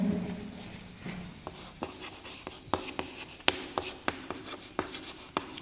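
Pen or marker strokes as a Vedic maths multiplication method is written out by hand, a run of quick scratchy taps and short scrapes in irregular rhythm, close and fairly soft, with a brief voice at the start.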